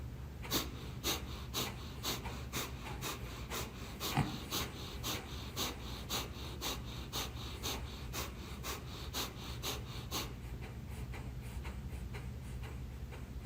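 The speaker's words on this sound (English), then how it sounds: "And then exhale everything out." Forceful, rhythmic exhalations through the nose during a breathing meditation meant to clear the nostrils, sharp puffs repeating about twice a second in a steady pulse, close and distinct, slowing slightly toward the end.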